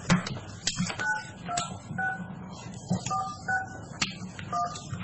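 Telephone keypad tones dialing out during a county commissioners meeting, a string of short beeps in an uneven rhythm over a faint murmur of room noise.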